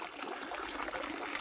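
Continuous trickle and splash of water pumped up by a small 12 V submersible pump running off a UPS battery, steady and close.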